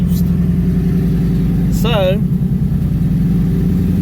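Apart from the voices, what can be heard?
2019 twin turbo Mustang engine at high idle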